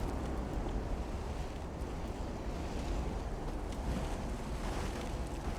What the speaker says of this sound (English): Bow dipping fully into the waves there.